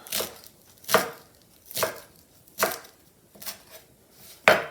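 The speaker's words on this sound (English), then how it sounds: "and chop up my parsley" A knife chops washed, dried parsley on a cutting board in six sharp, evenly spaced strikes, close and crisp with quiet gaps between them.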